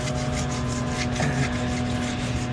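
Wet sanding on a car's painted surface during a mobile detailing job, a steady close rubbing texture running continuously without pauses, with a low machine hum underneath and no talking.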